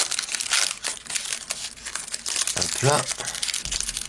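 Crinkly plastic wrapper of a Pokémon card tripack being torn and crumpled open by hand, close and rustling in repeated bursts, with a short spoken interjection partway through.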